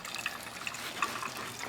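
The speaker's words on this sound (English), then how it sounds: "We have our stream of water" Steady, soft stream of water pouring from a broken coffee machine, a continuous gentle trickle with no voices.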